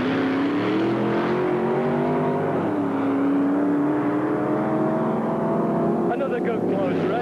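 Drag racing cars at York Raceway in 1984 roar steadily through the whole stretch, a loud sustained engine drone that rises and falls in pitch, with a voice talking over it.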